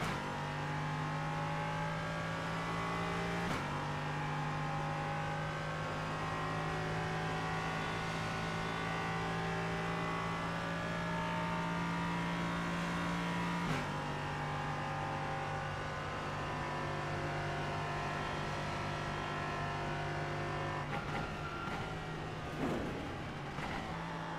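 Race car engine droning steadily through a dentistmobile race, sustained hum with pitch shifts as it revs and changes gear, plus a few sharper bursts near the end.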